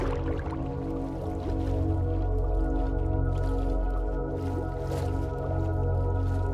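Swimming through water in Minecraft, with soft splashing and liquid movement sounds set against steady sustained background music, and no talk.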